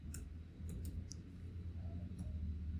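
Soft, rapid keyboard clicks from typing Python code, a few brief taps spread unevenly over a low steady hum, faint and close with no talk.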